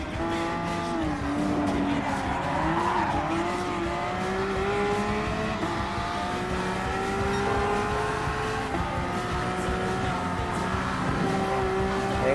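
A Porsche Cup race car in Gran Turismo Sport on the Dragon Trail Seaside circuit, its engine droning steadily with rising and shifting pitch through gear changes, continuous and loud, with a faint voice talking underneath.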